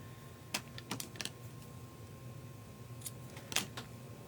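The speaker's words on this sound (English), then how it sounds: "I think I want to trim those tails a little bit more." Scissors trimming the ribbon tails of a Stampin' Up! paper-craft bow, a handful of sharp, crisp snips in two short bursts against a quiet room.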